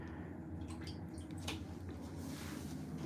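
Soft dripping and sloshing water in a photographic darkroom, quiet and close, with a few small splashes and a brief louder trickle.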